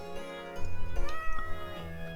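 Cat meowing in a video game, several drawn-out mews over a sustained musical soundtrack.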